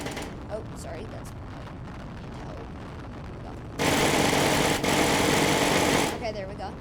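A video game tank turret fires in a rapid burst, a dense loud rattling stretch of about two seconds standing out above a quieter background with speech around it.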